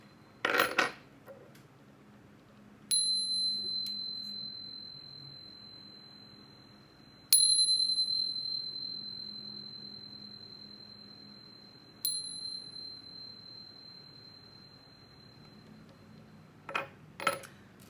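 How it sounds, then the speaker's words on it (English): Meditation chimes are struck three times before a reading, each bright metallic ring sustaining and slowly fading, with soft clinking and handling noises at the start and end. "But first, let's chime."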